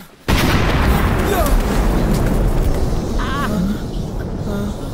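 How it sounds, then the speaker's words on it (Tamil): A bomb explosion in a Tamil dubbed movie hits suddenly with a huge boom, then a long loud rumbling roar of debris that slowly settles, with faint voices and shouts under the blast. "அது ஒரு பாம்."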